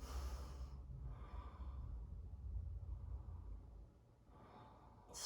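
Slow, audible breathing during yoga practice, close and soft, with a long inhale and a long exhale that fade to near quiet before another breath begins.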